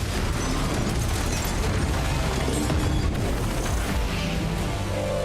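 A huge underwater mine detonates in a stunt sequence for the film Fast X, a loud, dense, rumbling blast that keeps roaring and churning for several seconds without letting up.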